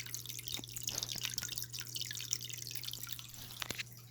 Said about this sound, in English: it gives you a bit more of that waterfall sound effect, especially as your water evaporates more and your water level gets lower